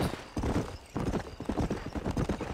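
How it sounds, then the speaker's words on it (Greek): Horses gallop in the Red Dead Redemption video game, their hooves drumming in fast, close, rhythmic clip-clops with a brief pause near the start. "πάμε να κάνουμε μια κοντρίτσα με τα άλογα"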